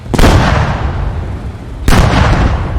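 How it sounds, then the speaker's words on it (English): Heavy cannon fire from a T-72 tank firing at an Abrams in the video game Squad, two loud, booming blasts about two seconds apart with long rumbling tails, close and forceful. "T-72 gets a shot off on the Abrams."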